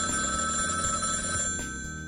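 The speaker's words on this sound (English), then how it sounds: "Phone rings and instinct kicks in." A telephone bell rings steadily at 4 a.m. in a parents' living room, a continuous bright trilling that stays loud and unbroken, with no voices.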